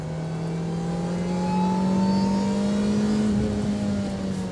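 A sports car engine revs hard on a track, its loud, smooth tone rising and holding steady, close up with no talking.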